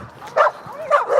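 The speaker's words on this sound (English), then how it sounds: "Look at all these dogs, bro." A few dogs yelp and bark in two short bursts, moderately close, with whimpery tonal calls sliding between them amid light background noise.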